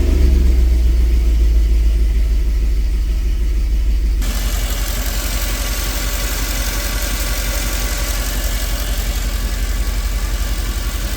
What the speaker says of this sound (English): Even a cold start right there.